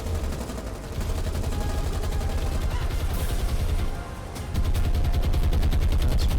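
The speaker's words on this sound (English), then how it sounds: "Oh, so close, it's only aircraft fire" Rapid aircraft machine-gun fire rattles in the naval combat video game War on the Sea, a dense, continuous stream of loud bursts that swells even heavier toward the end, with no talking.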